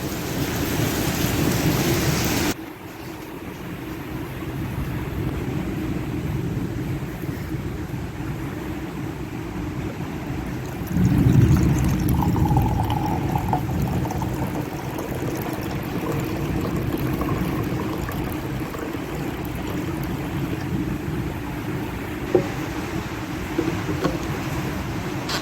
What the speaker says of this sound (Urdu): اب بارش پڑی ہے